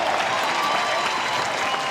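Fans at a Vanderbilt vs Auburn college baseball game applaud steadily, a dense, even wash of clapping from a large crowd with no break across the short stretch.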